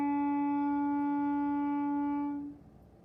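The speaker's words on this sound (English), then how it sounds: "we're going to get note name E on the clarinet." A clarinet holds a single sustained note E, clear and steady for over two seconds before fading out in a quiet room.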